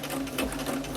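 A sewing machine stitches an Agnes dress, its needle running in a quick, even mechanical chatter close by, with no talking.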